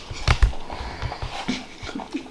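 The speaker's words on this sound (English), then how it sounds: "The dogs." Dogs whimper, pant and yip up close in a busy run of short, uneven sounds, with no clear talk over them.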